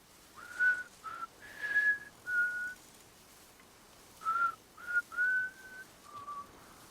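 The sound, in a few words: Cliff whistling the Death Stranding theme in a video game cutscene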